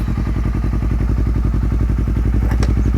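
A motorcycle engine idles close by with a fast, even pulsing chug, loud and steady, and a brief clatter comes near the end.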